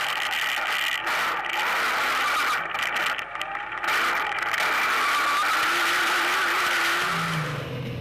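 Rally cars race along a narrow track through sugarcane fields, engines droning and rising in pitch with tyres scrabbling, a steady loud roar that shifts as the cars pass.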